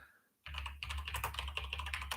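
Steady run of computer keyboard typing starts after a brief silence, with many close, clicky keystrokes in an uneven rhythm over a low background hum, and no one speaking.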